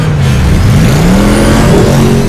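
The Batmobile from The Batman (2022) rumbles loud and close, its big engine revving in rising and falling sweeps under a continuous throaty roar.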